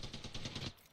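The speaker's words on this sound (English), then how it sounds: "Who the fuck is shooting?" Rapid automatic gunfire from a video game, about a dozen evenly spaced shots in a fast steady rhythm, loud and close, then cutting off abruptly with no voices over it.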